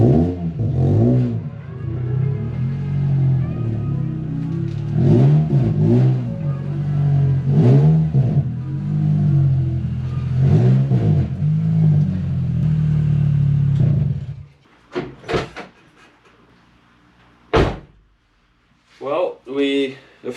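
A Volkswagen Jetta driving on the road at night, its engine rumbling and swelling through repeated accelerations for most of the stretch, then dropping away to near quiet with a few brief sharp noises near the end.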